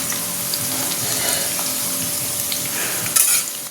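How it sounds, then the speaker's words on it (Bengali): Bitter gourd frying in a home kitchen pan, giving a steady, close sizzle with light crackle throughout, plus a brief clatter near the end. "উচ্ছে বসিয়ে দিয়েছি"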